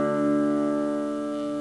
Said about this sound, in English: So your E string is going to sound really low